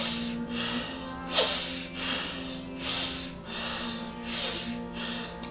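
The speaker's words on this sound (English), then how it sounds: "we take those super deep inhales, super deep exhales" Deep, forceful breaths in a Kundalini yoga session, alternating through left and right nostrils, coming in about four loud rhythmic waves of rushing air, close and alone.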